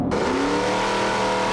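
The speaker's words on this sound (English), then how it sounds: "Here we go, the two Monaros, the 4-door up against the 2-door." Two Holden Monaro drag cars, a 4-door against a 2-door, scream off the line together with a loud, rising engine roar that climbs in pitch through the short burst.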